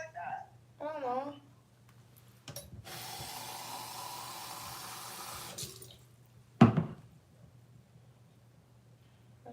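Water runs from a tap into a cup in one steady pour lasting about three seconds, with a short voice before it and a sharp clunk of the cup afterward, all fairly quiet and close.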